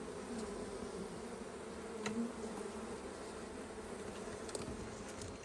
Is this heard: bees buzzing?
yes